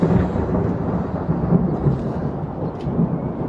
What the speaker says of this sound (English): it's kind of like thundering, maybe rain